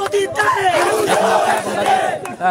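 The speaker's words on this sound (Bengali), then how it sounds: "এখন দেখতে পাচ্ছি বিক্ষোভ মিছিল পালন করছে" A dense crowd of Dhaka University students on a protest march chants loudly and close, with many voices shouting in a rhythmic unison that barely pauses.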